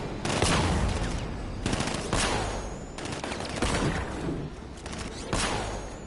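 Bursts of gunfire in Batman: Arkham Knight, several sharp volleys spaced a second or two apart, loud and close, with no talk over them.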